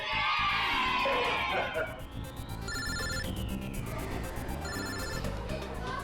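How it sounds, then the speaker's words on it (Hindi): A phone rings with repeated electronic trills over a noisy classroom of excited voices and shouting. "एक मिनट, अभिजीत का फोन"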